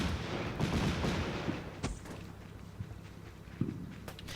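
Heavy gunfire from a Bradley fighting vehicle booms in a loud, rapid burst at first, then thins to scattered distant shots and thuds as the firing fades.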